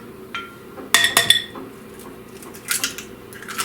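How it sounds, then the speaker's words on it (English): Two eggs cracked and dropped into a bowl of mashed bananas for a banana soufflé, giving a short burst of bright clinks and taps against the bowl, then a few softer knocks and rustles nearby. "We're going to add to this bowl 2 eggs. So here we go. Just drop them right in there."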